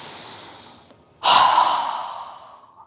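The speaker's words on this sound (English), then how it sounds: "inhaling through our nose and exhaling with a strong exhale with our mouth open wide" Breathing exercise: a soft inhale through the nose, a brief pause, then a strong, loud exhale through a wide-open mouth that fades out slowly. Close and clear, with no talking.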